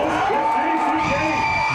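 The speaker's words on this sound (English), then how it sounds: "this may be the only time this year that you've heard the crowd screaming and hollering like this" A high school football crowd in Pickett County screams and hollers at a night game, loud and sustained, with rising whoops and cheers throughout.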